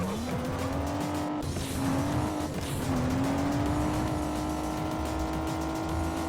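Race car engine in the Juiced racing game, holding a steady droning whine that rises and dips with gear changes, with brief tire squeal and skidding, loud and continuous with no voices.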